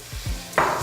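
Chorizo cooking in a dry pan with no oil, a short burst of sizzle and stirring, with low scraping sounds and then a brighter hiss that swells near the end.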